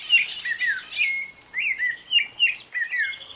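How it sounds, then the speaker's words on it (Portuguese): Several birds chirp and whistle in quick, overlapping bright phrases, short tweets coming in close succession like a small chorus, clear and near with no other sound. "O pássaro, para mim, ele nunca está sozinho. Às vezes ele está em momentos solitários, mas sempre está em coro."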